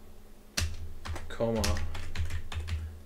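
Rapid clicking keystrokes on a computer keyboard during network lab configuration work, steady and close, with someone speaking briefly over the typing.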